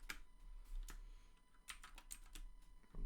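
Someone types on a computer keyboard in scattered bursts of quiet, close clicks over a low steady hum, with no talking.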